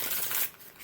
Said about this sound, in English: that was a nice shuffle